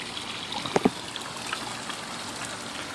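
Water from a pond pump trickles softly over a rock edge. The flow runs as a faint, steady trickle with a couple of brief splashy drips partway through.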